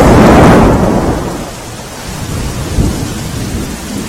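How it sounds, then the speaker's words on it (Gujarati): Heavy monsoon downpour with thunder in Umarpada, Surat district, Gujarat: a loud, deep rumble opens the clip and fades, leaving a steady roar of rain falling on surfaces. "ધોધમાર વરસાદ વરસવાના કારણે ઠેર ઠેર પાણી ભરાઈ ગયા છે"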